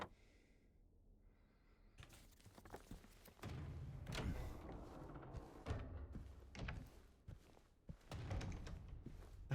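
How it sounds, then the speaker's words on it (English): Dull thumps and knocks sound in the Silent Hill 2 Remake video game, a cluster of irregular heavy thuds after a quiet opening, fairly close and without talk. "That's a lot of thumping noises."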